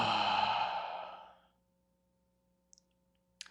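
One long, deep exhale sighs out close and breathy, fading to silence, followed by a couple of faint clicks.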